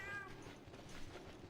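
A peach-orange house cat named Mai gives a faint, brief meow at the start, quiet against a steady background hum with no talking.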